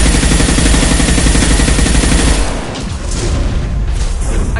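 Dense, loud gunfire in the video game Mass Effect 2, a continuous barrage of rapid shots and booming blasts that eases slightly for a moment midway, then keeps roaring.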